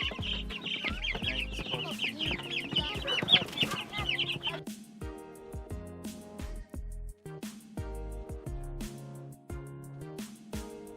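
Chicks clucking and peeping, likely being moved out onto grass on a small farm, with dense chirps over the first half and then sparser, fainter calls under other low sounds.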